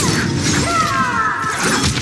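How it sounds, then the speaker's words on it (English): A sharp, close crunching shatter, with a brief metallic ring, as a spine is broken during a Mortal Kombat 1 fatality, alone and lasting about two seconds. "shattering their spine"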